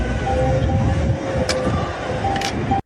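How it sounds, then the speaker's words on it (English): An open truck door scrapes against other cars in a video game, a continuous rumbling grind with a drawn squealing tone and two short sharp scrapes, steady and fairly loud. "It's now scraping against other cars."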